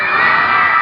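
A congregation at an Islamic religious gathering shouts together in one sustained, loud collective cry, a dense crowd roar with no pauses and no single voice standing out.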